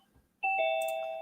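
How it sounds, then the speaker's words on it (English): Zoom meeting join chime: a clean two-note electronic ding-dong, clear and fairly loud, with the second tone sustaining and slowly fading after a brief quiet lead-in. "So I hear the ding dong on Zoom."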